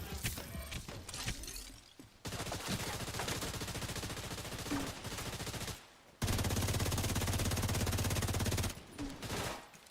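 Automated turret fire in The Division 2, with dense rapid bursts of machine-gun rattle coming in long loud stretches broken by brief pauses, mixed with game effects and no clear speech.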